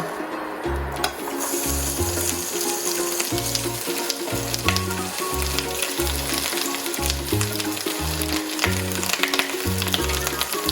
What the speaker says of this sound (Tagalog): I will now start frying the chorizo